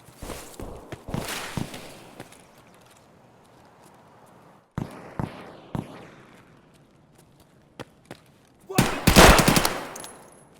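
Gunfire in Escape from Tarkov from a PM pistol, as a handful of sharp single shots spread across the clip, with a dense, loud burst of rapid firing near the end over faint footstep-like ambience.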